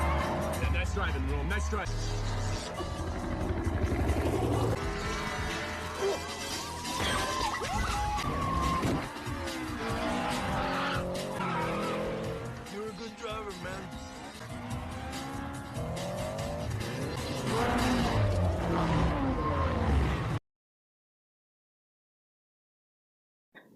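Cars race away from a police pursuit in 2 Fast 2 Furious, with roaring engines, squealing tires and siren wails running continuously and loudly beneath a voice narrating over the action, then cutting to silence.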